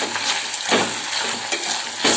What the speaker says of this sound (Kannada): ಇವಾಗ ನಾನು ಹೆಚ್ಚಿಟ್ಕೊಂಡಿರೋ ಟೊಮೆಟೊ ಹಣ್ಣನ್ನು ಸೇರಿಸ್ತಾ ಇದ್ದೀನಿ.